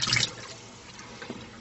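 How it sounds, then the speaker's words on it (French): Water pours and splashes out of a pot of soaked, peeled potatoes being drained in a home kitchen, a brief loud gush at the start that trails off into faint dripping. "Donc on va vider l'eau."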